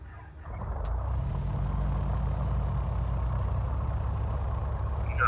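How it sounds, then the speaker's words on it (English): The number one engine of a Piper PA-44 Seminole starts with a brief cranking noise, then settles into a loud, steady, low rumble close by, with no talk. "To me, that looks like a successful engine start."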